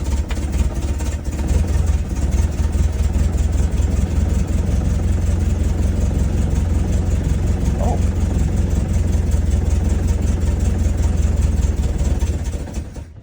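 A Land Rover Lightweight engine idles close by, running steadily and loudly for most of the stretch before cutting off at the very end, with a voice talking over it.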